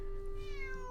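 A cat meows once in a video game, a short clear cry over a low steady background hum.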